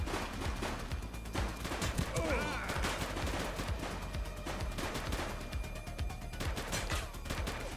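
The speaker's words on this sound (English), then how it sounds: "He's shooting!" Heavy, dense gunfire in a police shooter game, with rapid overlapping shots and bursts rattling continuously at close range amid crashes and brief shouted voices.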